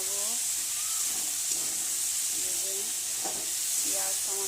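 Onion, tomato and chilli frying in a pan for an egg tadka, a steady close sizzle with soft stirring, while a voice talks faintly underneath.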